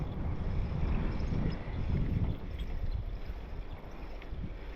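Wind blowing outdoors in quiet rural Japan, a steady low rumbling gust that buffets the microphone, swelling and easing slightly with no voices.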